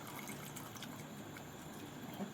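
Hot water drains from blanched molokhia leaves through a strainer, a faint, steady splashing and trickling stream that runs evenly from start to finish.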